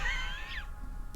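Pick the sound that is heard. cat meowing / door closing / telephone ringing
cat meowing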